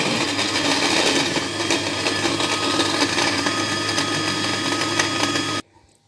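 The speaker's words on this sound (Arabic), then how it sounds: "ونبدا نطحن هاد المكونات هادو حتى ينسجم ليا العصير مزيان" An electric blender grinds juice ingredients with half a litre of cold water, a loud, steady whirring roar running for several seconds before cutting off abruptly into near silence.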